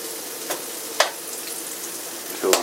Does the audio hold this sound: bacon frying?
yes